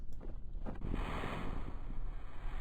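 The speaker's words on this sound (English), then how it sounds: "Splish splash down into the water." In Kerbal Space Program, a capsule splashes down into water, giving a rushing, windy surge of spray and waves that carries on as a steady wash.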